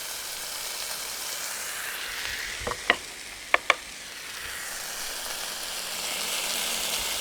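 Fish sizzles steadily in a frying pan, a soft continuous crackle broken by a few sharp clicks and taps, no talking.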